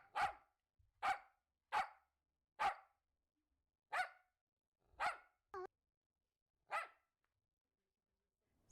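A dog barks seven times in a slow, evenly spaced series, each bark a sharp, fairly close single woof with silence in between, plus one brief whistle-like squeak midway.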